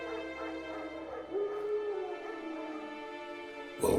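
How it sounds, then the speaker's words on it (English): Wild dogs in The Witcher 3 give a drawn-out distant whining howl that rises and falls over a steady game ambience and music bed, followed by a sharper burst at the end; no talking. "Wolves? No. Wild dogs."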